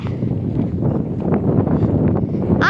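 Strong wind blowing outdoors across open marshland, a steady loud roaring rush buffeting the microphone throughout, with a brief higher whistling or squeal near the end.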